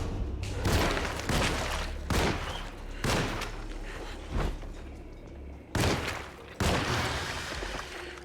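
Gunfire in the survival horror game Alone in the Dark: about seven loud, booming shots ring out at irregular intervals, and each leaves a short reverberant tail before the next.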